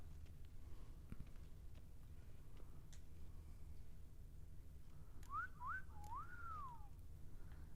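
A character in The Witcher 3 whistles a short wavering tune of a few rising and falling notes, faint over a steady low game ambience with occasional ticks.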